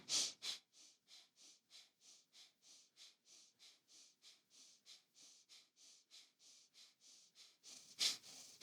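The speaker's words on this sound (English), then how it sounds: "coordinate the movement with the breath" Rhythmic, forceful breathing during a Kundalini yoga kriya, with quick, even breaths repeating steadily and close up, no talk, and a couple of louder sharp breaths near the start and the end.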